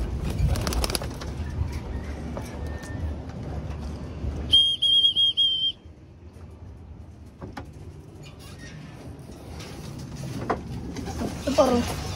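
Young homing pigeons from a first breeder batch coo softly around a loft, with a brief whistling tone and rustling in the middle, while people talk nearby.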